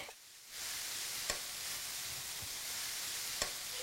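Crushed flat beans frying in a pan for a Bangladeshi bean dish, a steady close sizzle with broadband crackle and a couple of sharp pops, no talking.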